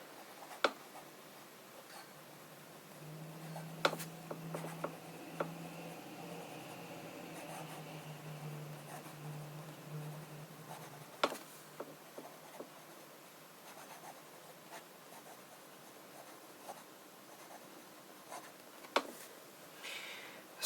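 Fountain pen with a fine nib writing on paper in Private Reserve Tanzanite ink, soft continuous scratching with small ticks as strokes start and stop, close and quiet, with a faint low hum in the background.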